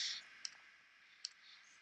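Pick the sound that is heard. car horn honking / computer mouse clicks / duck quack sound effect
computer mouse clicks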